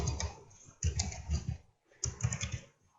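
Computer keyboard typing entering a name and study program, with short bursts of clicking keystrokes separated by brief pauses, close and fairly quiet.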